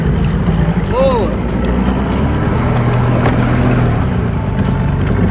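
A 2003 Sea-Doo GTI LE RFI jet ski's two-stroke engine runs at high revs, a loud, sustained drone with wind buffeting the microphone. A brief chirp sounds near the start.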